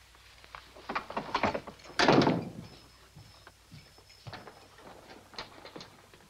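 A wooden door in a 1954 western handled and locked, giving a cluster of knocks and rattles, then a loud clunking slam, followed by scattered lighter clicks and taps close by.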